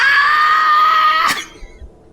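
A loud, sustained scream stands in for a character badly wounded in a tabletop role-playing session. It holds steady for over a second before breaking off sharply, leaving quiet background noise.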